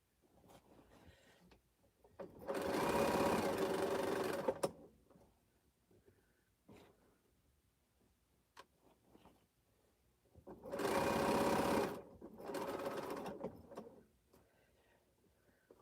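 Bernina sewing machine stitching quilt fabric in two long bursts of steady whirring, each lasting a couple of seconds, with quiet handling clatter in the pauses between them.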